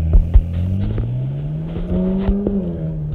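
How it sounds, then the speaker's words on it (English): A fast car's engine revving up and down nearby, loud and throaty, with the pitch climbing steadily before easing off. "Got a fast car."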